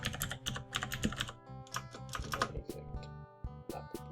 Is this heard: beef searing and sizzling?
no